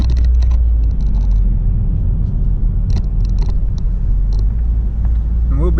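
A car cruising along a road, giving a constant loud engine and road rumble throughout, with a few faint clicks and rattles over the drone and no clear talk.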